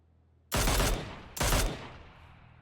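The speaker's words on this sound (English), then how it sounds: "BreadPit getting fired on." Two heavy, booming bursts of gunfire in the battle royale game PUBG, each a dense roar lasting under half a second, loud and close, followed by a fading rumble with no talk.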